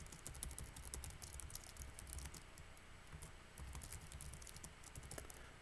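Computer keyboard typing while writing C# code, quiet rapid irregular key clicks in short bursts with a brief pause midway, no talk.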